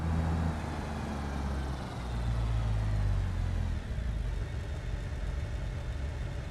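A car engine in the BeamNG driving game hums at a steady mid-level rumble as the car is driven, the tone shifting slightly as it changes speed, with no talking.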